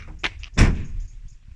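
The rear barn door of a Ford Transit Custom van, repaired after being stiff, swings with a quick light latch click and then shuts with a single solid thud, close by.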